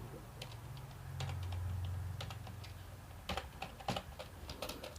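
Someone types on a computer keyboard in Tally ERP 9 software, giving an irregular run of quiet, close key clicks with short pauses and bursts, over a low steady hum.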